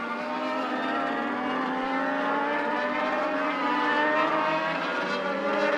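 A pack of Bandolero-class race cars in the young lions rank at Charlotte Motor Speedway, engines droning steadily at speed in a continuous dense buzz with shifting pitch, heard from a distance without pauses.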